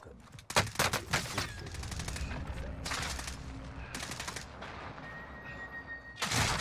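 Rapid automatic gunfire bursts and scattered single shots in a Call of Duty Warzone match, close and loud, with a few dull thuds mixed into a steady busy din.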